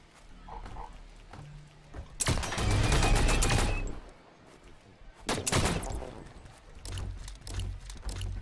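Gunfire from The Signal From Tolva comes in two dense bursts of rapid shots, loud and close, separated by quieter stretches of low rumble and game noise.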